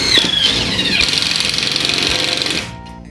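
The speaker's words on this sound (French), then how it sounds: "Tu vois, j'utilise le petit pistolet à choc Bosch. Tu vois, rien qu'au bruit, tu vas entendre que je suis bien dans le rail." A small Bosch impact driver drives a fastener into a metal rail in a garage being converted into a laundry and bathroom. It makes a loud, continuous, rapid mechanical hammering for about two and a half seconds, then stops abruptly.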